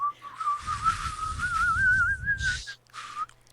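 A person whistles a single sustained, wavering tune for about three seconds, slightly rising in pitch, over a muffled rumbling background that cuts out before a short final whistled note.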